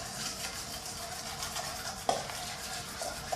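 A spoon stirs honey mustard sauce with a pinch of salt in a bowl, giving soft continuous scraping and swishing with a couple of light clinks against the side, close and without talk.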